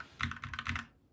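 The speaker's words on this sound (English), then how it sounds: "this is about the baseline sound that I have been able to get out of it just by switching to some pre-lubed Akko switches" An Akko 3084B Plus keyboard with pre-lubed Akko switches is typed on in a short burst of about a dozen soft, muted, thocky keystrokes, close up with no voices.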